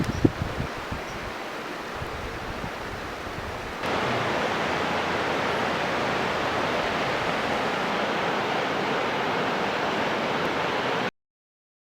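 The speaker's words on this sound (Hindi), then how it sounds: "धौली गंगा नदी।" Rushing water of the Dhauli Ganga river in the Himalayas near Mallari village, fed by snowmelt, a steady broadband roar that swells louder partway through and continues unbroken.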